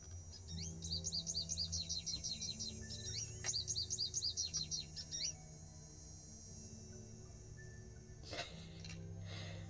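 Game birdsong, likely a cardinal, in the Nancy Drew Ghost Dogs of Moon Lake woods: repeated bright chirping phrases in quick rhythmic runs over the first five seconds, then quieter ambience with a brief rustle near the end.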